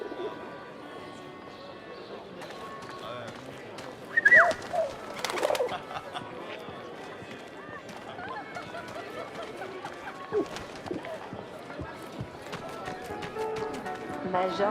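Soft pigeon cooing and a brief flurry of wing flutter inside a Paris building in the video game 11-11 Memories Retold, faint beneath steady room ambience, footsteps and voices talking.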